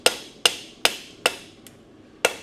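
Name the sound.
hammer forging metal on a mounted anvil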